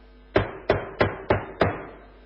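Five evenly spaced knocks on the door of an attic room, each sharp and close with a short ringing decay, heard alone against a quiet background.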